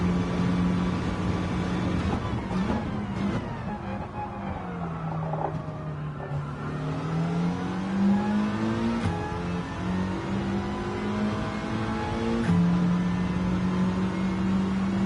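Race car engine in the video game GT7, a steady loud drone that swells and dips as the throttle is eased off and reapplied, shifting pitch through the run, continuous with no talk.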